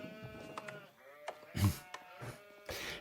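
Sheep bleat in the Age of Empires video game, with a few short, fairly quiet bleats over a busy mix of soft game effects.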